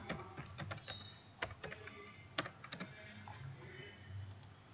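Computer keyboard typing while entering code: quick bursts of sharp, close key clicks in irregular clusters, separated by short pauses, with no talking.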